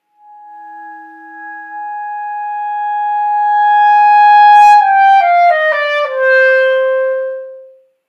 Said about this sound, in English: that opening B flat lends itself very easily to an undertone